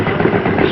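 Steady low rumble of a big 3,800 cc double-engine Harley drag bike at a 1974 drag racing nationals, a continuous loud engine drone with no breaks.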